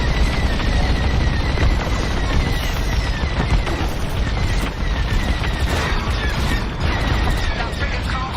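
Starfighters in Star Wars: Squadrons pour rapid, loud laser fire at a frigate over a continuous roaring din of engines and space combat, with bursts stacking up in quick succession.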